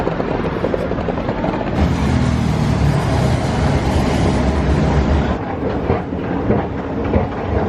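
A Marmaray line train runs through the tunnel under the Bosphorus, filling the space with a loud, continuous rumble and a rhythmic clatter of wheels on rails.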